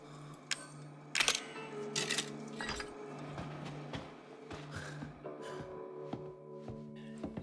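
Coins clink and rattle in quick metallic taps as they are dropped into a slot in the Resident Evil 7 video game, mixed with faint game sounds and a steady low hum.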